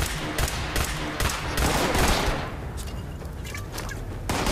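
Rapid bursts of energy-weapon fire in Fallout 76 with laser weapons, loud and dense with repeated sharp shots and impacts over a busy game mix, easing briefly before picking up again.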